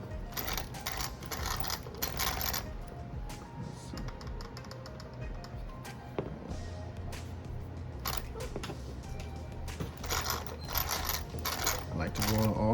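Rear differential of an Arrma Talion EXB RC car being rolled by hand: close, continuous ratcheting and clicking gear noise with bursts of rattling, loud and mechanical, no talking over it.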